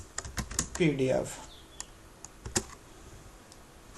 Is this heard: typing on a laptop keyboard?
yes